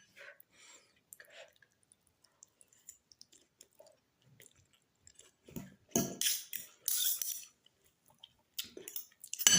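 Quiet, close-up chewing and soft squishy bites while a meal of fried fish with vegetables is eaten, with sparse clicks and small wet sounds building to a few louder crunchy bursts toward the end.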